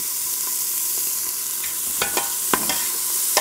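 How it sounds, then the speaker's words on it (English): Chopped onion and garlic stirred in a hot frying pan, a steady sizzle throughout with scattered scrapes and clicks of the utensil against the pan. "chopped onion and 2 cloves of garlic. We'll stir that around a little bit."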